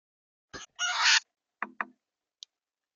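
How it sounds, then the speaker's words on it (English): Birds calling in a played nature clip, a short burst of loud, harsh crow-like caws followed by two brief clucking notes and a faint chirp, separated by silence. "we have seen some of the coolest birds"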